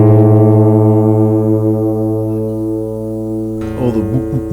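A single low note from a guitar's A string being tuned rings out steadily with a slow wavering beat, then the pitch shifts and settles as the string is adjusted.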